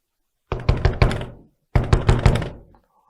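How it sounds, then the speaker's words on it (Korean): A house door pounded hard and loud, two bursts of four heavy thuds each, close up and alone with a short pause between the bursts. "갑자기 누군가 밖에서 롯의 집 문을 부서질 듯이 두드리기 시작했어요."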